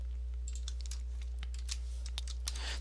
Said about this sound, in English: if I type in equals trim mean